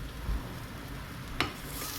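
Ginger and garlic sizzle softly in a pan beside scallops, a faint continuous frying hiss with a brief sharp crackle partway through.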